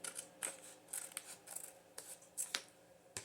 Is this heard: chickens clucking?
no